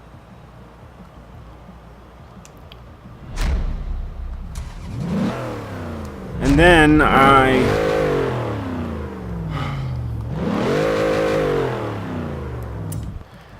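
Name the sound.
Ford Crown Victoria engine revving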